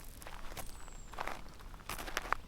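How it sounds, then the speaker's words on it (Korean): Footsteps in an audiobook radio drama, a run of soft treads approaching from behind on an outdoor path, moderately close with faint rustling and no voices. "등 뒤에서 뜻밖의 발자국 소리가 들리는 것이 아닌가."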